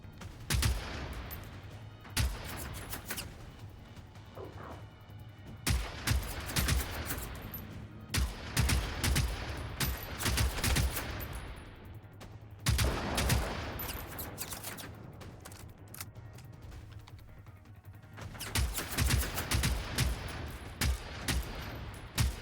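Rapid bursts of gunfire in the video game Generation Zero, repeated loud volleys and automatic fire coming in clusters with brief pauses between them, no talk.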